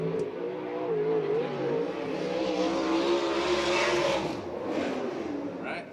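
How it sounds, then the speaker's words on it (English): A 410 non-wing sprint car runs qualifying laps on a dirt oval at Victorville, its engine a loud, steady roar that rises and falls in pitch as it circles the track, with no voices heard. "Car on the track now, number 36."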